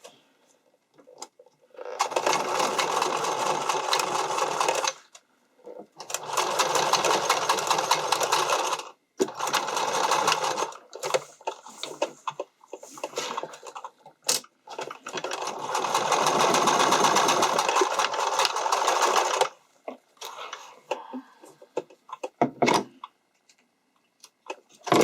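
A sewing machine zigzag stitching fabric for a strappy underwire bikini top, running in several long loud bursts separated by short pauses, close and steady with no talking.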